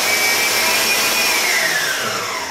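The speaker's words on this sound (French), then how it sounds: "baissez votre batteur" An electric hand mixer whirs steadily at high speed while beating a Christmas spritz cookie dough, its loud motor pitch sliding downward near the end as it slows.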